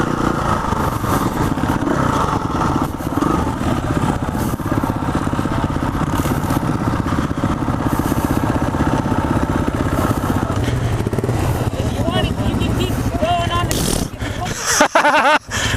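A small trail motorcycle's engine idles steadily and loudly close by with a rough, chugging rumble, then changes pitch and clatters near the end while people talk over it.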